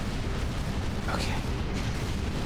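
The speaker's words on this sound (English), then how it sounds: "I'm just shooting everything, and hopefully one of them is the thing that I'm supposed to shoot" Shooting and explosions in the video game LAIR rumble as a dense, continuous wash of booming blasts and bursts, loud and close, with a voice talking over the din.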